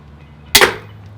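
A toy gun fired at a zombie target, one sharp, close snap followed by a brief rattle as the shot lands, alone against quiet background.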